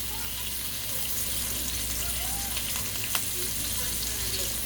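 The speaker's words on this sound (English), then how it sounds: "I love that sizzling sound" A boneless New York strip steak sizzles steadily in a pan, a continuous close, even frying hiss with one brief sharper pop near the end.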